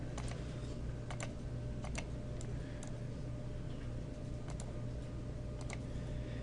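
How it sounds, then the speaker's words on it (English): Quiet clicks of a computer mouse come in small clusters and single taps over a low steady hum while 3D modelling at a desk, faint and fairly close. "so I'm just going to keep clicking away here."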